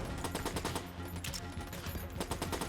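Rapid, steady gunfire from a .38 Special revolver in Enter the Gungeon: quick, closely spaced shots in an almost continuous rhythm, loud and dense throughout with a short lull midway.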